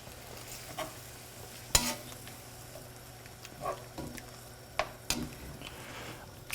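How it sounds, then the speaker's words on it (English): White wine bubbling and reducing in a hot pan while deglazing for low-sodium shrimp pasta with cherry tomatoes, giving a steady soft sizzle broken by a few sharp stirring scrapes and clicks, close up with no talk. "reduce that white wine down to kind of a syrupy consistency"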